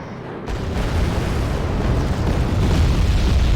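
Bombs from a MiG-29 air strike in Wargame: Red Dragon land as a loud, sustained rumbling blast. It starts after a brief quiet moment and holds as a dense roar throughout.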